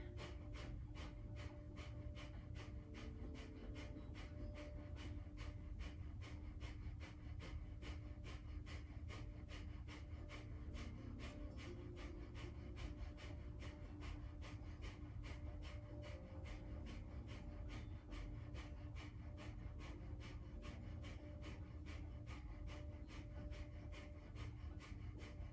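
Rapid rhythmic pumping breaths in a Kundalini yoga kriya, a fast even series of sharp exhales repeating about twice per second, steady and close but quiet, with a faint musical drone underneath.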